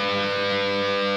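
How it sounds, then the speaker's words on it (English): Sustained distorted electric guitar on a solo, a full-step bend on the 14th fret of the G string, ringing steadily with a dense harmonic stack and no talk. "you're going to do a full step bend on the 14th fret of the G like this"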